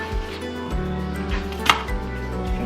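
A knife chops an onion on a board while preparing healthy meals, with a few separate strikes at an unhurried pace over a constant background hum.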